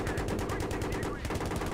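Rapid automatic gunfire from the Battlefield 3 video game rattles in steady, evenly spaced bursts throughout, fairly loud and close.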